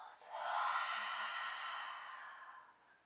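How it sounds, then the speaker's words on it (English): A long, soft exhale out through the mouth during a yoga breathing exercise, a breathy whoosh swelling and then fading over about three seconds, close and quiet. "exhale out the mouth"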